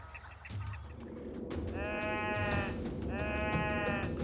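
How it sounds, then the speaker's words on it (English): A blue sheep on an ice-covered slope gives two drawn-out, wavering bleats, moderately close, over a steady background hiss, with no talk. "Below, a blue sheep tests an ice-covered slope."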